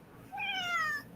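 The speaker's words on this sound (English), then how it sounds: "Do you hear my kitty?" A pet cat gives a single short meow indoors, moderately close and fairly soft, rising then trailing off over a quiet room.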